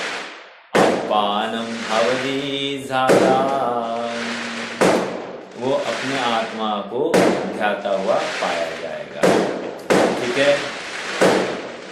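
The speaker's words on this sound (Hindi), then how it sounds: "बाहर कुछ पटाखों की आवाज आ रही होगी" Firecrackers go off outside in a few sharp, sudden bangs that cut through a man's steady speech from a talk nearby.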